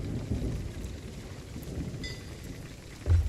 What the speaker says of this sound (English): I hate the storm.